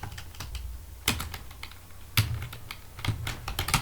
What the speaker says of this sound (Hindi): मैंने टाइप किया यहाँ पर